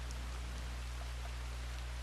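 Steady rain falls in a video game, a dense even patter with a low constant hum beneath it and no voices.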